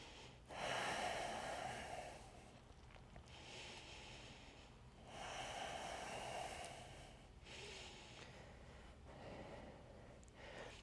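Slow, deep yoga breaths during a moon salutation sequence, three long airy exhales or inhales spaced a few seconds apart, close and soft with no talking.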